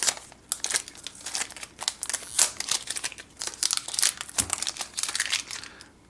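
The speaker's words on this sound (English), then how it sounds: "I'm going to go ahead and peel off all this plastic." Plastic wrap is peeled off a new Amazon Fire TV and its power adapter during an unboxing, giving close, continuous crinkling and crackling with quick sharp tearing bursts throughout.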